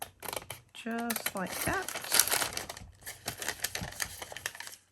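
Scissors cut through Dollar Tree wax paper with a few crisp snips and crinkles close by, mixed in among a person's speech.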